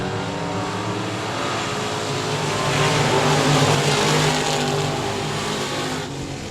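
Race cars lap the 67 Speedway of Texarkana with a loud, continuous engine roar that swells to a peak midway and then eases slightly as the pack moves around the oval.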